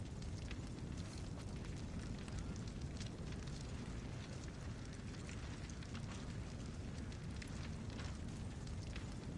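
Fire and explosions in Assassin's Creed Odyssey, heard as a constant roaring, crackling rumble with heavy low-end booms and scattered bursts, loud and unbroken throughout.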